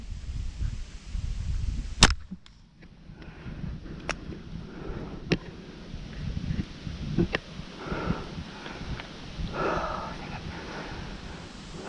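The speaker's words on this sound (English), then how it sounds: "It sounded like my arrow hit leaves." A bow shot at a buck during Pennsylvania deer season, with a sharp release snap near the start and a few faint brushy ticks afterward as the arrow clips leaves, set against quiet outdoor woodland rustle.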